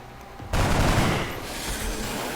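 A machine pistol fires in the video game XCOM Long War: a sudden loud burst that rolls into a sustained, noisy gunfire blast and slowly eases off, with no talk over it.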